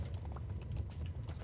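Horse hooves clip-clop in the medieval game Life is Feudal, a quiet, steady run of soft rhythmic hoofbeats over a low rumble, with no voices.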